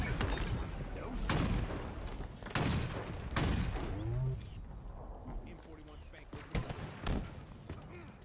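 Gunfire in a Halo shooter game bursts out in several loud clustered volleys with thumping impacts, broken by gaps, while someone talks over parts of the action.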